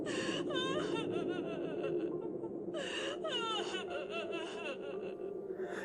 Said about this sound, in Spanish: Era un llanto fuerte, desgarrador